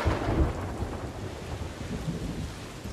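Rolling thunder and steady heavy rain from the pirate game Sea of Thieves, a loud continuous stormy wash with deep rumbling swells throughout and no voices.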